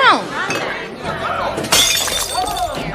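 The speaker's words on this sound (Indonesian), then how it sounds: "memecahkan botol minuman tepat di kaki Jania" Glass drink bottle smashed on a shop floor, a sharp shatter with tinkling shards following soon after, with voices talking over it before and after.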